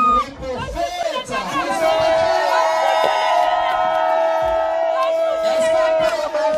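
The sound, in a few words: crowd cheering and shouting at a baptism celebration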